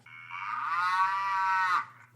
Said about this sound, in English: That is just a cow sound effect.